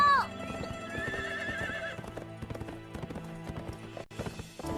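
Horse whinnies sharply at the start, then steady hoofbeats clip-clop over a dense animated-series soundtrack, the hooves rhythmic and fairly close throughout.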